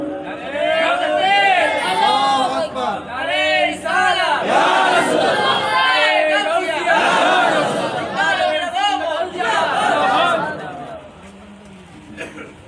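A large crowd at a religious gathering shouts slogans in unison, with loud rhythmic call-and-response bursts repeating for around ten seconds before fading to a single voice.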